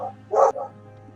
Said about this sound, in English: Oh, we have quite a dog going on there.